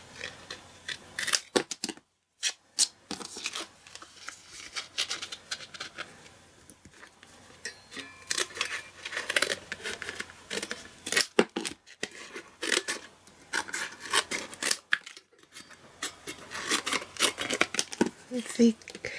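Scissors snip repeatedly through paper or card for embossed stars, in quick irregular bursts of crisp cuts close by, with a person talking between them.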